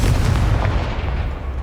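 An explosive Confringo spell goes off in the Hogwarts Legacy video game, a loud, deep booming blast with a rumbling tail that fades slowly.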